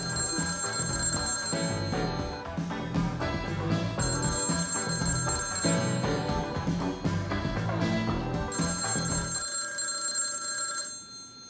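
A telephone rings in repeated bursts with a steady tonal bell pattern over a music-like background, loud and close, ending in a quiet tail.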